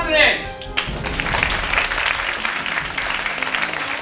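An audience applauds to congratulate the winning team at a global leadership event, a steady wash of clapping that swells and carries on for several seconds, preceded by a brief rising tonal flourish.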